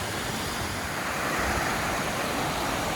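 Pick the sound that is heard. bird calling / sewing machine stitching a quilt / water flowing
water flowing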